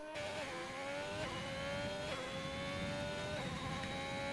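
A Haas F1 car in a racing game revs hard after spinning out at Turn 2, its high engine whine climbing and dropping repeatedly through gear changes, steady and close, with no voices.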